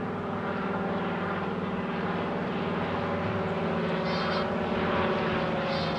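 A Curtiss H75 Hawk propeller fighter flies past at the Paris Air Show at Le Bourget in 2023, a loud, steady piston-engine drone with rich harmonic buzz that swells slightly as it nears.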